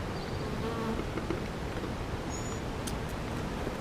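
Honeybees drone in a bee yard during a mid-June hive inspection, a steady diffuse buzzing hum with occasional closer passes, moderately quiet against outdoor background.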